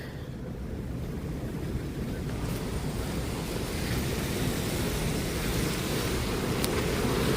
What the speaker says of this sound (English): What gives me the chill is the wind.